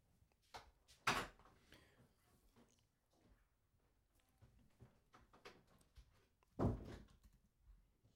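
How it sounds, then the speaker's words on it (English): A door thuds shut twice, one sharp close early on and another several seconds later, amid faint room noise and scattered small clicks. "Can you close the door?"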